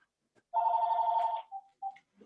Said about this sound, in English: there was a phone ringing here in the background